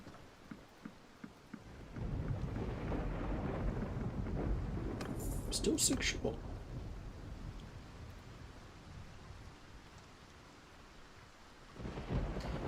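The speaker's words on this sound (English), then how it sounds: "Hopefully this storm has passed by the time I come back." Thunderstorm in Mount and Blade 2: Bannerlord: a heavy, sustained rumble of thunder and rain sets in after a quiet start, swells briefly, then settles into a steady roar, with a short spoken word early on.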